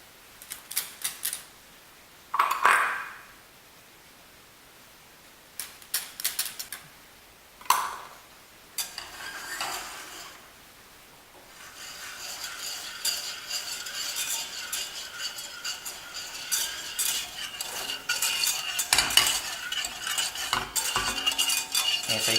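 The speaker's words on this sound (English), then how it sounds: "And you just want to whisk this until smooth" Whisk working sugar, cocoa powder and cornstarch in a pan for dark chocolate pudding pie filling: scattered metallic scrapes and taps early on, then a steady rapid scratchy stirring that grows louder and denser toward the end, with no talking.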